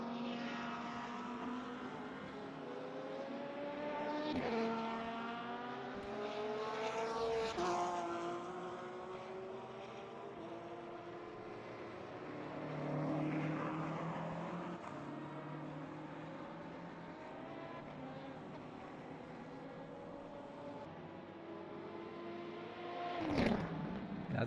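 Race cars in a video game circle Sebring during a two-hour endurance race, their engines swelling and fading as several cars pass one after another, loud and continuous with no talk.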